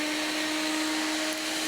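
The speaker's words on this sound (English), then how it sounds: "I'm going to start it up and we'll watch some desiccant go through" A desiccant loading tool blowing desiccant through a hose into a test bag, a steady loud whooshing airflow with a constant motor hum and no pauses throughout.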